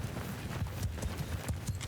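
Horses galloping in a Mount & Blade II: Bannerlord battle as horse archers charge, a steady rapid drumming of many hooves, fairly close and continuous, with no speech.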